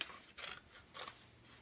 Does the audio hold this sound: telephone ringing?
no